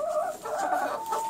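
Pet hens cluck and chatter close by in a steady, overlapping stream of soft murmuring calls, with no voices over them.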